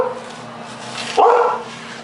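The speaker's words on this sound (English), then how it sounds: "oh, my damn dogs. Quiet, out of my kitchen, come on." Dogs in a home kitchen during cooking let out a single sharp bark over a low steady hum, with a short yelping tail, fairly close and loud, no one talking.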